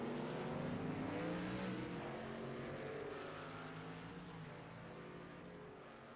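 Race trucks in an Australian NASCAR eSeries video game roar down a back straight after a hairpin, a dense layered engine drone that is steady and fairly faint, easing slightly as it goes.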